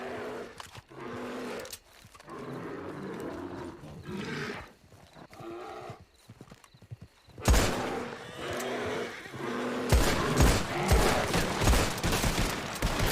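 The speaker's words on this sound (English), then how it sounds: "Oh, this man's shooting me." Gunfire in a video game, with an enemy shooting at the player's character: sharp, loud broadband bursts of shots crackle in the second half, following quieter background game ambience.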